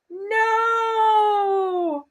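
A person imitates a cat's meow with one long, drawn-out, whiny vocal meow lasting about two seconds, loud and close, rising slightly then falling at the end.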